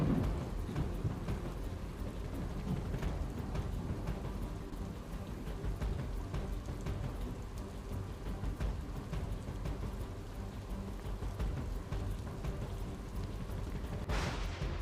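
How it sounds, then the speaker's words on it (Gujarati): Heavy monsoon rain pours down steadily in Navsari, Gujarat, with a low rumble of thunder underneath; no voices. "6 તાલુકામાં સાર્વત્રિક વરસાદ પડ્યો છે"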